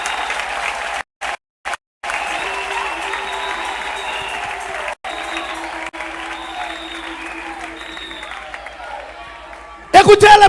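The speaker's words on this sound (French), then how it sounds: "Acclamez le Seigneur Jésus-Christ." A church congregation applauding and cheering at a service led by a pastor in the DR Congo, loud sustained clapping from a large crowd that continues almost throughout, briefly broken by short gaps, with a voice speaking over it.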